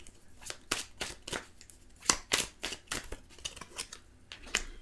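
Tarot cards being shuffled and drawn, a quick run of crisp close riffling snaps and slaps at an uneven rhythm, fairly quiet with no talking.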